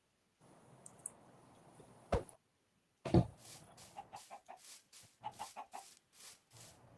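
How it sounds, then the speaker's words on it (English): Minecraft chickens give a string of short, quiet clucks with a couple of brief louder squawks, then a quick run of clucks alone against silence. "We got chickens."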